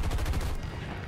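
Aircraft cannon fire in War Thunder during a head-on fighter duel: a loud, rapid burst of heavy gunfire with closely spaced reports, cutting off abruptly and leaving a lingering rumble.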